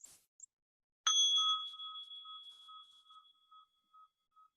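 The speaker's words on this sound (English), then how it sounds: "This is just a little singing bowl" A small singing bowl is struck once, giving a bright clear ring that hangs and slowly fades over several seconds in an otherwise quiet room.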